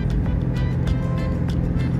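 Road traffic rumbles steadily and loudly, including a truck, cars and motorbikes on a highway, with a continuous low engine drone and repeated swishes of vehicles passing close by.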